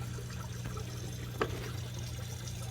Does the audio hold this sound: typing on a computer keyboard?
no